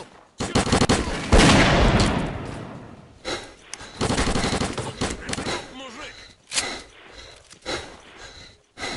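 Bursts of gunfire in S.T.A.L.K.E.R. Clear Sky: loud, rapid automatic volleys and single shots come in clusters, broken by short silences.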